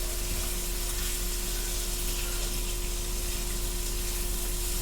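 Potatoes frying in a pan for breakfast, a steady broadband sizzle that holds at an even level throughout, close and continuous, with a faint constant hum underneath and no talking.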